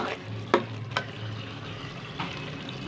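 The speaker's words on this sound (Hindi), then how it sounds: "इसको हम कर देते हैं मिक्स।" Lauki sabzi with green coriander is stirred in a pan: a soft background sizzle with a few brief scraping clicks of a spoon against the pan, no one speaking.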